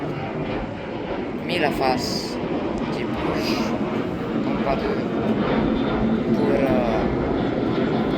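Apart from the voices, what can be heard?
airplane passing near Palermo airport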